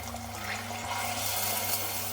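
Water pours steadily into a pot of soup on the stove, a continuous rushing splash with a low, even body that holds for the whole stretch.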